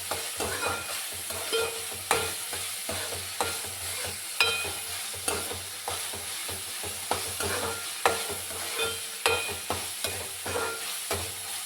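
Tomato paste fries in oil for a fish curry, sizzling steadily while a spoon scrapes and stirs the pan in regular, repeated strokes.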